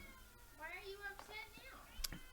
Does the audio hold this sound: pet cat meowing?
yes